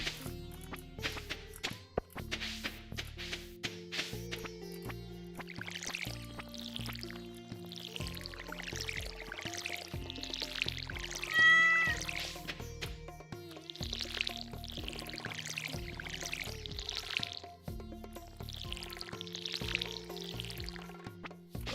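In Stardew Valley, a watering can splashes crops in a series of short swishing pours, repeated several times over the cheerful farm music.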